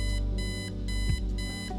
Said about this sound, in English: Turn off alarm clock.